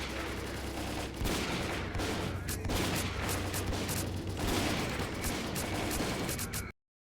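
Rapid bursts of automatic gunfire crackle through a firefight in the video game S.T.A.L.K.E.R.: Call of Pripyat, with dense overlapping shots and sharp individual cracks continuing for several seconds before cutting to silence.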